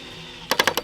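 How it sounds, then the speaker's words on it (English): A screw going into a board, heard as four sharp, evenly spaced clicks or taps at close range after a brief quiet stretch. "I'm going to put one more screw in here."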